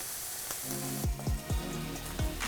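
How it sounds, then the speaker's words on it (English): Veal sweetbread drops into a hot pan for searing, giving a steady close sizzle punctuated by several sharp thumps and crackles as the pieces hit the surface. "We're gonna drop the sweetbread in. Let it cook for a little bit"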